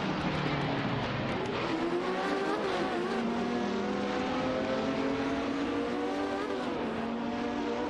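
A Porsche 917-20 and a Ferrari 512s race wheel to wheel in a racing game, their engines droning loud and continuous with shifting, rising and falling pitch.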